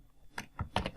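Quick typing on a computer keyboard while a value is entered, a short burst of several close, crisp key clicks in an uneven rhythm, alone and fairly quiet.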